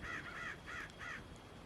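Crows cawing in a run of four harsh, drawn-out calls, fairly close and clear against a steady low background hum, with no voices.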